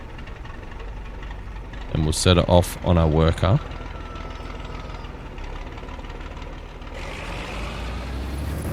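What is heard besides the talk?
tractor engine running in Farming Simulator 25 video game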